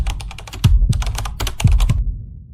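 Typing on a computer keyboard in quick clattering bursts of keystrokes with heavier thunks mixed in, close and crisp, ending in a short pause.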